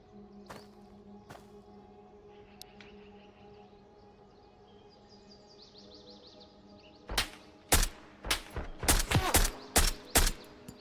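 Enemies in the survival shooter game Road to Vostok trade gunfire, starting as quiet scattered pops and then breaking into a loud burst of rapid, closely spaced shots over a humming ambient background.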